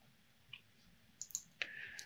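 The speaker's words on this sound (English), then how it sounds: "So from the keyboard, just press Y and then click." A few sharp, faint clicks of a computer keyboard key press and mouse button, spaced irregularly in a quiet room with no talking.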